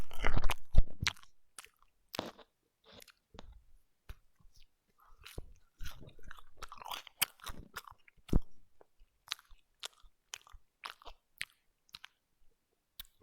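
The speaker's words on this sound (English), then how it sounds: "That was a marshmallow." Close, wet chewing of a marshmallow in an ASMR setting, with irregular soft smacks and squishes, busiest at first and thinning to sparse, quieter bites toward the end, with no talking.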